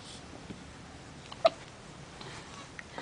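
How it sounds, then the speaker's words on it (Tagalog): A baby's single hiccup, a brief soft catch of breath heard once at fairly close range in a quiet room, with faint household background and no talking. "sinisinok siya. Isinok."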